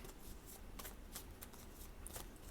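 Star Dragons oracle cards being shuffled in quick, steady riffling bursts, close and continuous, with soft papery flicks and no voices.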